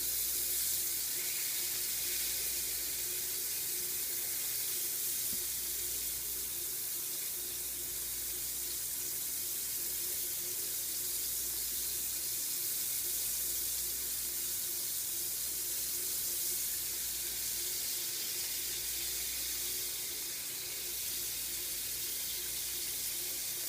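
Cubed steak sizzles and browns steadily in a hot pan, a continuous close, even hiss of frying with no talking over it.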